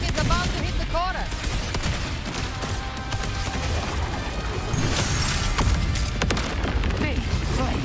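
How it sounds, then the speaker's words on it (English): Mortar explosions rumble in a Wuthering Waves battle, a dense, loud barrage of booms and crashes layered over music and game effects throughout. "Another mortar thrown at us."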